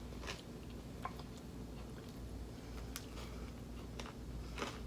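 Someone biting and chewing a crostini topped with feta, caramelized onions and fig jam, faint crunchy bites and chewing clicks scattered over a quiet, steady room hiss with no talking.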